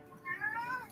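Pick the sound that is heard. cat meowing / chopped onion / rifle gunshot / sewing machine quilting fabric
cat meowing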